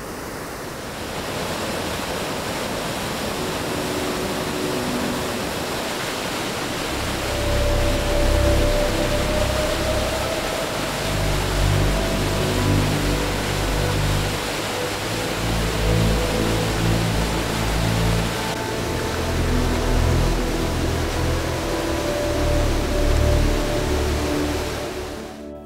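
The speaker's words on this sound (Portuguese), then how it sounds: "Eu estou falando das cachoeiras" Waterfalls of Rio Claro pour in a continuous broadband roar of rushing water, steady and fairly loud throughout with a deeper low rumble swelling in partway, no voices.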